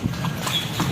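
Horse hooves clip-clop in a steady trotting rhythm, close and fairly loud, with a faint voice underneath for part of the ride.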